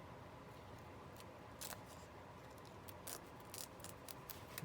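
Adhesive tape, a foily craft tape, torn by hand in several quick rips, each a brief crisp burst standing out over a faint quiet background, with no talking.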